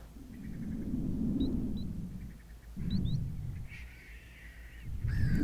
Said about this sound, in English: I've got a little bird up there. I think maybe it was a vulture